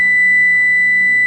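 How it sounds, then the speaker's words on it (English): A kitchen oven timer sounds a single sustained electronic beep, loud and steady, a pure tone lasting over a second while asparagus cooks, with no talking. "We're patiently waiting for the timer to go off on the asparagus"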